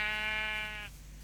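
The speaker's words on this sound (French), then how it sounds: "Les moutons qui m'encouragent." Synthetic sheep bleat from Minecraft creative mode, a single drawn-out wavering baa lasting under a second, clear and close, then fading to quiet.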